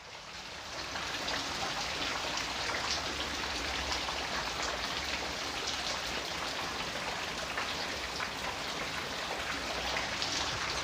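Steady rain falls throughout, a dense even hiss of drops on surfaces, fairly close and continuous without voices.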